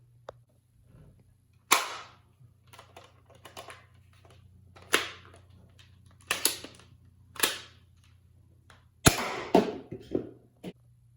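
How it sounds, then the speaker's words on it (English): A Nerf Rival Knockout foam-ball blaster handled and fired, a series of sharp snapping shots and mechanical clacks spaced a second or two apart, close and distinct over a low hum. "this Rival blaster does shoot pretty hard"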